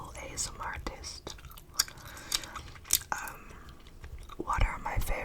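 Close-up open-mouth gum chewing, wet smacking and clicking mouth sounds repeating irregularly right at the microphone, with soft whispering mixed in.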